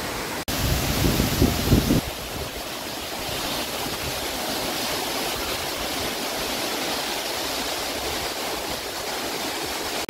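Hebbe Falls, a waterfall dropping 551 feet, roaring as a loud, constant wash of water that runs unbroken for ten seconds, with a brief low rumble near the start and no voices.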